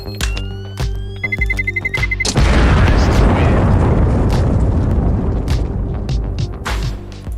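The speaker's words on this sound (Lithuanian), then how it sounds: "Išsitrauksiu trečią C4 bombą. Prilipinsiu ją prie dar kitos durų vietos." A C4 charge planted on a bank door in a GTA game goes off with a sudden loud boom, then a long rumbling roar that slowly fades, following beeping and game tones beforehand.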